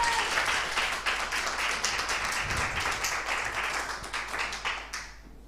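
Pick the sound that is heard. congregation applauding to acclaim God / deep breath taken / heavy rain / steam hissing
congregation applauding to acclaim God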